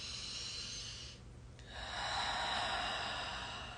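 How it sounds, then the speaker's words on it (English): Slow, relaxed breathing during an energy healing session. A soft airy exhale, a brief pause, then a long gentle inhale, close and quiet with no talking. "let's just start to breathe together"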